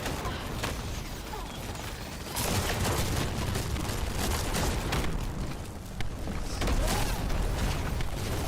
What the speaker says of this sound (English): With also the ability to shoot dual wield pistols that do skill damage.